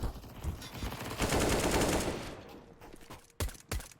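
MP submachine gun fire in Counter-Strike rattles in a rapid burst, followed by a couple of sharp single shots, loud and close, with faint commentary behind.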